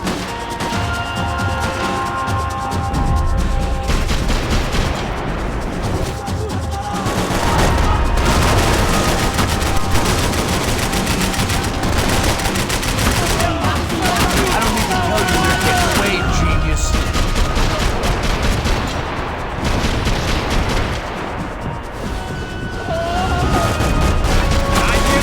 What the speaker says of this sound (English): I can't concentrate with bullets whizzing past my head!